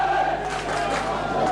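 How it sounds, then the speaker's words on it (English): Crowd at a 1987 Auckland rugby league tour match in Great Britain against the Saints: a steady, loud roar and cheer from the stands fills the whole moment without a break. "Good crowd here."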